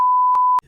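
A steady pure-tone censor beep sounds loudly for just over half a second, then cuts off abruptly.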